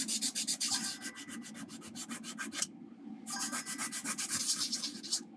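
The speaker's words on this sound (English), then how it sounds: "Let me just sand that down." Sandpaper scrubs electrolyte residue off an Amiga 500 circuit board in quick, rhythmic back-and-forth strokes, close and crisp, with a brief pause midway before the rapid rubbing resumes.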